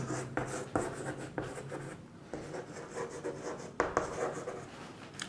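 Chalk or marker writing on a board during a physics lesson, with steady scratchy rubbing strokes in quick rhythmic bursts, close and fairly loud, with a brief pause midway and no voice heard.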